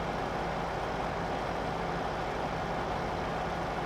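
A tractor engine in Farming Simulator 15 drones steadily at a constant low rumble with no variation, heard alone throughout.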